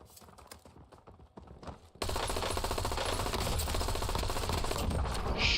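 Rapid automatic gunfire in the Warzone video game, a dense, loud, sustained burst that erupts suddenly after a quieter stretch of lighter in-game sounds.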